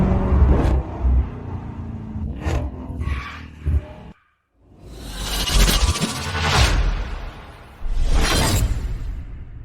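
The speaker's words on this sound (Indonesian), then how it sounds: "Pak Yan, mobil sport yang Bapak inginkan sudah tiba." A sports car arrives with a loud passing whoosh and engine rumble, followed by a brief gap, then a second swelling roar and a further rush near the end, all close and forceful.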